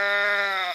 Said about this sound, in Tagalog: Baka kambing ni Namang Lando yun.